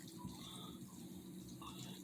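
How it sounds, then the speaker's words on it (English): Chicken broth poured from a container into stuffing, a soft continuous trickling wash of liquid that stays faint and steady throughout with no talking. "we're just going to pour a little bit of chicken broth"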